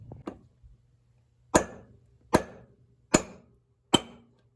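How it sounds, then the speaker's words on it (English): A brass hammer strikes a screwdriver being used to pry on a Cub Cadet motor, four sharp, evenly spaced metallic taps, close and clear in a quiet space after a fainter knock. "This brass hammer I got right here, as I'm prying up on this screwdriver."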